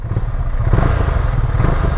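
A Scrambler motorcycle accelerating in road mode, a close, loud, rough engine drone with a steady throbbing pulse that rises slightly as it goes.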